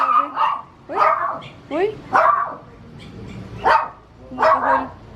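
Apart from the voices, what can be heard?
puppies barking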